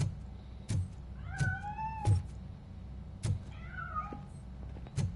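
Two distinct meows from a cat in Robocop: Rogue City, set among sharp metallic clanks and thuds that repeat irregularly over a steady low hum.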